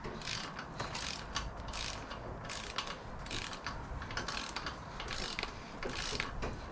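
A ratchet tightens the main bearing caps on a Nissan Micra engine from an autograss car, making fast rapid clicking bursts close up over a continuous noisy workshop backdrop.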